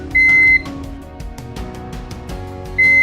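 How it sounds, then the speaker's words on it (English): Two long electronic beeps from a Davis Vantage Vue weather station console, one near the start and one near the end, separated by a soft, irregular clatter of background sounds. "The console will beep 4 times."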